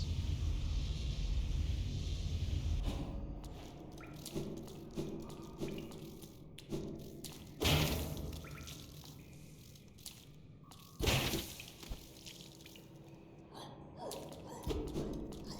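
Splashing and sloshing of water in a video game, with wet squishy impacts and a few louder plunges scattered over a busy, close ambient backdrop.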